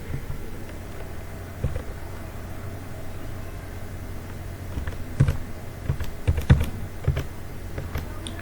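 Keys clicking on a computer keyboard as an ID number is entered, sparse taps at first and then a quicker cluster of keystrokes, close and fairly faint over a steady room hum.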